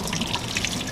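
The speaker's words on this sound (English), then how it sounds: "We're actually gonna pour ice cold water onto them just to cool off" Ice cold water pours steadily onto tomatoes in a kitchen, a brief, close splashing gush with no talk.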